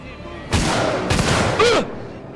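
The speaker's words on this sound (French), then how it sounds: "il me tire avec un ray gun ou quoi?" Three loud blasts of alien ray gun fire in the Alien Isolation video game, booming bursts spaced about half a second apart over steady game background noise.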